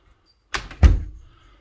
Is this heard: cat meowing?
no